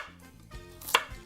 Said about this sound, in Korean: 자, 이제 간단 도마 작업 해볼까요?